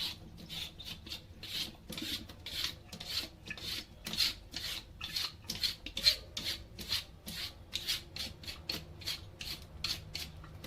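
A peeler scrapes a white radish (lobak) in steady, rhythmic rasping strokes, each one short and close, repeating evenly without any talk.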